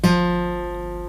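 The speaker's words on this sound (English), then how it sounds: "3rd fret on the D string should sound like this" A lone guitar note picked at the third fret of the D string within an F major chord shape, starting with a crisp pluck and then ringing on, steady and fading slowly with no other sounds.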